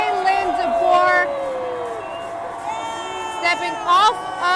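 A welcoming crowd greets Alabama's new head football coach Kalen DeBoer on his arrival in Tuscaloosa, with steady outdoor crowd noise and scattered whoops. The noise rises in a couple of brief bursts over a reporter's voice.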